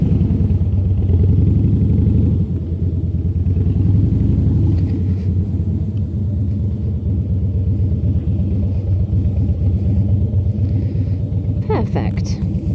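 A Harley Davidson motorcycle engine rumbles steadily while riding, a loud low drone filling the whole stretch, with a rider talking over it.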